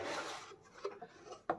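Cardboard box of an eSSL MB160+ID biometric device being opened, soft rubbing and scraping of the packaging followed by a couple of light taps, close and quiet.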